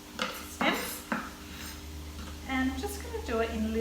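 A knife chops beet green stems on a board, giving a few sharp, separate knocks. A person talks steadily the whole time.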